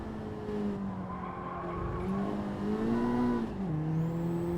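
Race car in Gran Turismo 7 drops from fourth to second gear: the engine tone wavers and jumps in pitch with brief revving blips, under a loud continuous drone and light tire squeal.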